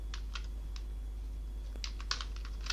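Code is typed into Excel VBA on a computer keyboard: quiet scattered keystrokes, a few isolated taps then a quicker cluster of clicks, close up over a steady low hum.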